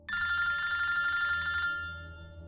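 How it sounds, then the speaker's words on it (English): A telephone bell rings in a rapid, buzzy metallic trill that lasts about a second and a half, then stops abruptly and leaves a fading ringing hum, close and clear. "I was awakened by an urgent phone call from the chief"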